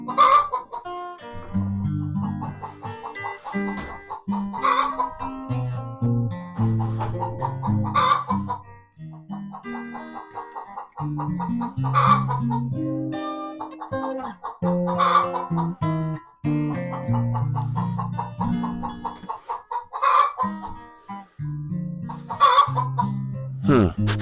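Hens cluck and call repeatedly at close range in a backyard coop with a heat lamp, a busy, continuous stream of short clucks and drawn squawks with brief pauses between phrases.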